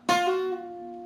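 One sharp guitar attack from a riff, hammered onto the 8th fret of the 2nd string, ringing close and solo as it slowly decays.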